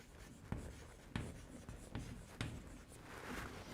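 Chalk or marker strokes on a board during a semiconductor physics lecture, a series of sharp scratchy taps and short drawn strokes at an irregular pace, close and moderately loud, with no talking.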